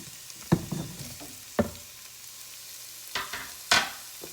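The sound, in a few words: sausage and onion sautéing in a pan for Zuppa Toscana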